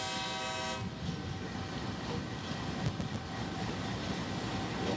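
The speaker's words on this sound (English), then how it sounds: "This is a sign of dispatch from Kano rail station to southern parts of the country" A train departs Kano rail station in Nigeria. It opens with a brief horn blast, then a steady, moderately loud rumble of rolling wagons continues with a few short clacks and no voices.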